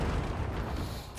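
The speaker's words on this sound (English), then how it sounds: "Let this grenade obliterate our foe!" A grenade explodes in Warhammer 40k: Darktide, one sustained low booming blast that rumbles steadily for about a second before tailing off.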